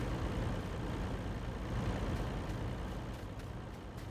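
A truck in the Farming Simulator 19 video game pulls up beside a potato combine, its engine rumbling steadily and loudly throughout with no pauses.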